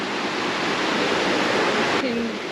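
A fast-flowing stretch of river rushes steadily nearby, a dense, continuous roar of water with no pauses. A faint voice cuts in briefly near the end.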